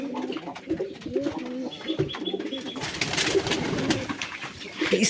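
Pigeons coo repeatedly at close range while being fed from a tray outdoors under cloudy skies, with soft bird calls and shuffling movement; a voice speaks briefly in the background.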